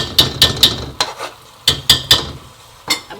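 Efo elegusi, a Nigerian spinach soup, is being stirred in a pot with a metal utensil, giving sharp scraping clinks in quick groups of three, with pauses between, loud and close over a faint sizzle.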